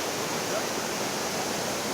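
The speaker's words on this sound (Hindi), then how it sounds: "नीचे गिरता हुआ साफ शफाफ पानी खूबसूरत आवाज़ के साथ आपको इंतहाई लुभाएगा।" Clear water plunging roughly 100 feet at the Ghrata waterfall in Kashmir, a dense, even roar that stays steady and close, with no voices.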